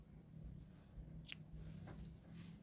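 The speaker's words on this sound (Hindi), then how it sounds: "अब यहाँ पर एक चेन लगा के अब हम धागा काट लेंगे" A single crisp snip of scissors cutting crochet thread, close and quiet, against a low background hum with a faint rustle after it.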